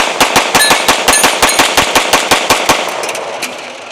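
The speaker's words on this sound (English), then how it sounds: "we're just gonna dump this magazine into that target" A Mossberg MC2C pistol is fired rapidly to empty a full magazine, producing a loud, close string of about twenty sharp shots in quick, slightly uneven succession, with the final shots spaced out as the magazine runs dry.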